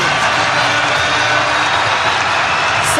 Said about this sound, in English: this crowd is going crazy at Moby